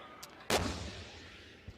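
A Type 96B tank fires its main gun during a tank competition, a single sharp distant boom followed by a rolling decay, with a faint smaller thump before and after.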